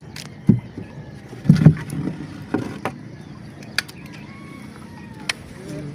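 A motorized outrigger pump boat on the water, heard as light knocking and creaking with a few louder thumps and a soft engine hum in the background.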